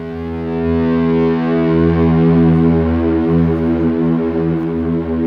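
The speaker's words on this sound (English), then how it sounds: "So I turn the echoes on, turn the volume down, hit a note, open E string." One sustained open E note on an electric guitar played at low volume through an echo effect, a steady, smooth, organ-like drone with rich stacked harmonics that swells slightly and holds for several seconds alone.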